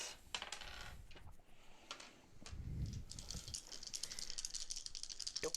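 Several dice clattering and rattling across a table during a board game, a quiet, close patter of small plastic clicks that comes in bursts, with no talking.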